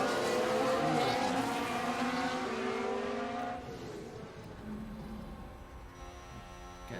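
Formula 1 race cars in F1 Manager 22 scream past during an overtake, a loud high-pitched engine whine that falls in pitch as the cars pass and then fades to a quieter drone.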